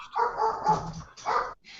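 A dog gives a quick run of close, loud barks and yips, a burst of three followed by a pause and another bark, with no speech over it.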